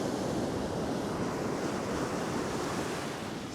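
Ocean waves breaking on a beach, a steady dense roar of white water and surf with wind noise across the microphone, close and loud throughout, no voices.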